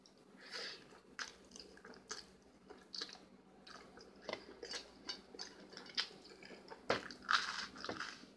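Spaghetti being eaten at a dinner-time mukbang, close, quiet moist chewing with soft irregular bites and smacks repeating steadily over several seconds, no talking.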